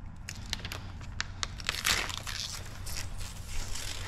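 Plotter-cut window tint film being weeded on a Toyota Prius rear window job, excess material peeled away in a steady run of close crinkling, crackling rips and crunches with no talking.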